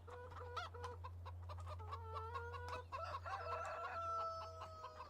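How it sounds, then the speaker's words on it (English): Rooster in Farming Simulator crowing and clucking repeatedly over a steady low hum, with several overlapping calls close by and no talking. "Dude, you only crow in the morning."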